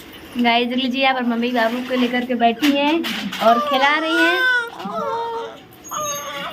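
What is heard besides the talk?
baby crying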